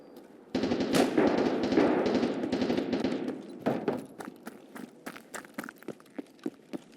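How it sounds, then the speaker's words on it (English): Suppressed gunfire in a video game: a dense burst of muffled rapid shots, then a string of separate sharp pops spaced out toward the end, fairly close and with no talk. "Here's some suppressed fire."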